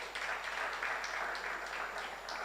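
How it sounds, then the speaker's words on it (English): Audience applause in a room at a US Embassy tech challenge event in Tanzania, a soft, steady patter of clapping heard at a distance for a couple of seconds. "A hand of applause to the US Embassy here in Tanzania."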